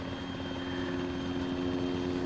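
Helicopter in the video game ARMA 3, a steady continuous rotor and engine drone holding at constant loudness, with no voices over it.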